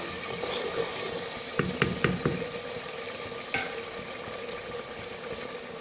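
Peas and potatoes tipped into a pan of cooked masala for aloo matar curry, with a steady frying sizzle and a few sharp clinks of stirring near the middle.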